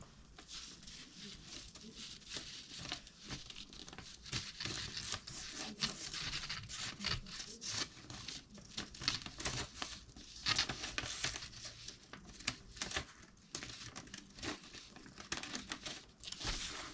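An A4 sheet cut down and folded into an origami sea dragon, close, continuous crinkling, creasing and rustling of paper with irregular soft taps and rubs, no talking.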